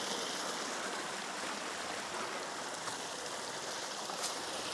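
Running water from a stream beside a hiking trail makes a steady, soft broadband rush that holds even throughout, fairly faint and unbroken, with no voices.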